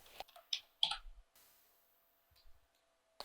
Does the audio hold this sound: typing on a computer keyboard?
yes